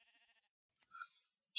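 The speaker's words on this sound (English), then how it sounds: "Stealing her sheep's wool there." A video game sheep bleats in a short, wavering cry while being sheared for wool. Brief rustling and snipping follow, then a sharp click at the end.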